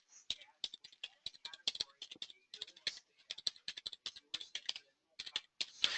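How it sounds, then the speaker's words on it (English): Someone types an email address on a computer keyboard: quick, close, crisp keystrokes in uneven bursts with brief pauses, no talking over them. "I'm going to type in my email address"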